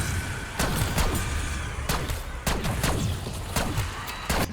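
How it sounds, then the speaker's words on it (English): Shotgun blasts in the zombie-survival video game Black Ops 6 Zombies, a run of loud booming shots at an uneven pace over a dense, noisy game mix. "This is a shotgun, by the way."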